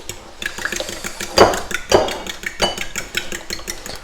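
Eggs beaten in a bowl in a home kitchen, a busy run of clinking and rapid tapping strokes, with a few louder knocks against the bowl and a low background hum.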